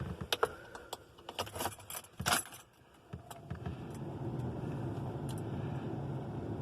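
A ring of keys, one for a 1963 Plymouth Valiant, jangles close up in several bright metallic shakes, then gives way to a steady low rumbling background.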